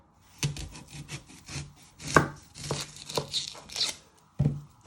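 A kitchen knife chops the end off an onion on a cutting board while prepping vegetables for a chicken vindaloo sauce: a string of sharp, close taps and dull knocks at an uneven pace.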